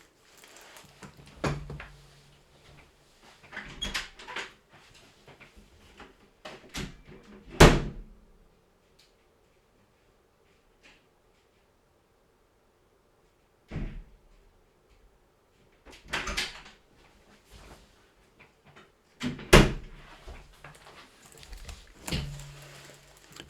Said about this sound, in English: perfect, isn't it, for a nice start to stream, banging doors and all that jazz